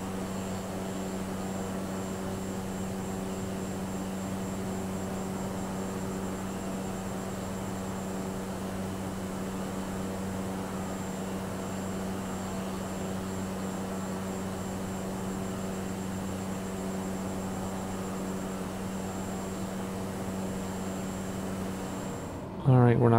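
A small aircraft engine in Microsoft Flight Simulator 2020, flying a bush trip over Iceland, gives a steady, even drone with a constant tonal hum that stays level throughout and rises briefly right at the end.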